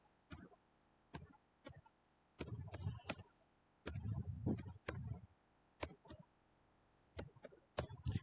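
Quiet clicks of a computer keyboard while HTML code is typed, sharp isolated keystrokes mixed with quick runs of typing, close and clear with pauses between bursts, no speech over it.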